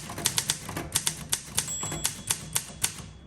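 Keys struck one by one on a 1957 Olympia SM3 manual typewriter in dark green, a steady run of about a dozen crisp, close clacks with small bell-like metallic rings between strokes, no voices.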